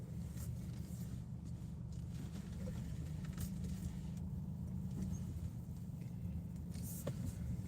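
A car engine idles and rumbles steadily at moderate distance as the vehicle pulls in and parks, a continuous low hum with faint shuffling sounds around it.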